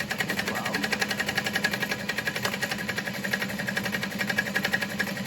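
A sewing machine runs a zigzag stitch through foam, giving a continuous rhythmic mechanical whir with a steady fast pulse. It sounds close and fairly loud, with a faint voice underneath.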